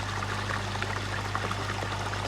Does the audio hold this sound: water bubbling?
yes